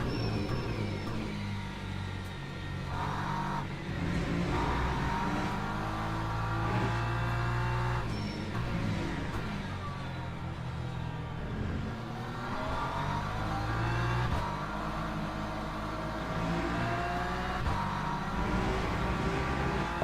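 A race car engine in the racing game Le Mans Ultimate at the Portimao circuit roars steadily and loudly throughout, its pitch climbing and dipping through shifts and revs, with no talk over it.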